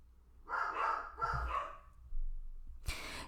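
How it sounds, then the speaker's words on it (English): Several dogs bark in short bursts, close and fairly loud, with a pause between bursts, then a final sharp bark. A low outdoor rumble runs underneath, and no one speaks. "these dogs are driving me crazy"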